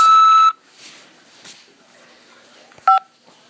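Prison phone system at a corrections facility: a loud half-second beep opens, faint keypad clicks follow, then a short two-tone keypad beep near the end, with no voices.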